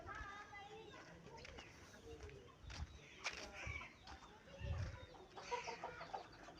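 Aseel chickens on a poultry farm, a hen standing with her brood of eleven chicks, give scattered clucks and cheeps amid busy background noise, with a person talking over them.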